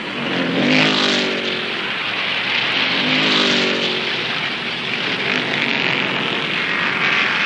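Stock cars racing on a dirt track, loud engines roaring continuously as cars sweep past with rising and falling revs, dense and unbroken throughout, with no talk over it.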